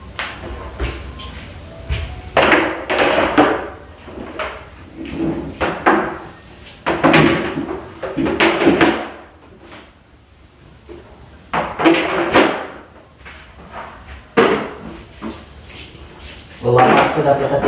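Wooden chairs being gathered and shifted around inside a small church during cleaning, with repeated scraping, knocking and thudding bursts at close range and people talking in between.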